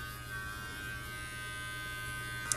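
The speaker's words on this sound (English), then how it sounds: "So I'm gonna use just kind of this curved head and see if I can trim that ear hair a little bit." An electric grooming trimmer with a curved head hums steadily at close range while trimming a dog's ear hair, a continuous even buzz with a brief click near the end.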